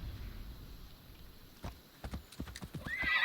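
A horse gallops through Assassin's Creed in ancient Sparta and Messenia. Rhythmic hoof clip-clops build over ambient noise, and a whinny sounds near the end.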